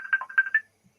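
A short burst of an electronic mobile phone ringtone from an incoming call, a quick run of bright warbling tones that stops after about half a second, faint and alone.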